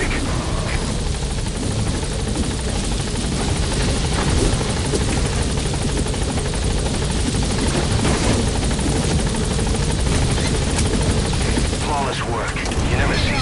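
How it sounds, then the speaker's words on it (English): Loud, close helicopter rotor chopping and turbine roar as a chopper touches down in the video game Metal Gear Solid V: The Phantom Pain, steady and dense throughout with gunfire-like bursts mixed in. "All right, the chopper's touching down."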